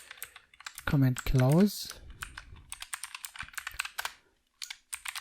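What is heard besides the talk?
typing on a computer keyboard while writing code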